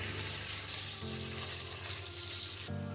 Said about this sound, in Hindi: ये इसमें डालेंगे और इन्हें तब तक सौंते करेंगे जब तक इसकी कच्ची स्मेल न चली जाए लहसुन की